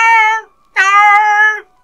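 A cat gives two clear, loud meows from a kitchen, close by. A short one is followed after a brief pause by a longer, drawn-out call, with no other sounds around them.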